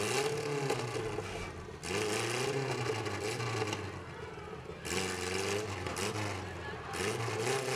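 Battered number 28 demolition derby car at a Riverside Riots event, its engine cranked repeatedly in rough grinding bursts with pauses between tries, loud and close, mixed with crowd noise and an announcer talking.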